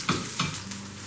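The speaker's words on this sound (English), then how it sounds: "Watch for the popping oil." Vegan corn fritters frying in a pan of popping oil, a steady sizzle with two brief louder pops early on, close and alone without talk.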